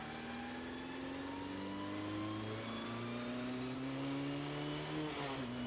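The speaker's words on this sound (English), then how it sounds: "We heel and toe to be able to continue braking and blip the throttle" A car engine drones steadily, then gives a quick throttle blip during a heel-and-toe downshift while braking, with the revs rising sharply near the end, close and loud with no talk.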